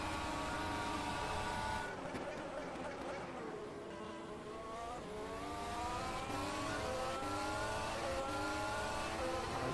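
Race cars speed down the main straight of a circuit, high-revving engines whining loudly. Their pitch climbs and dips as the cars accelerate and pass in close succession.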